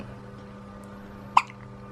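A newborn baby girl gives a single sharp hiccup, close and clear over a steady low hum, with a faint softer catch just after.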